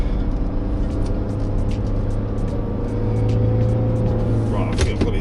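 The diesel engine of a Mercedes X-Class 250d 4MATIC pickup hums steadily from inside the cab as it pulls away, with a low drone that swells slightly midway and light clicks near the end.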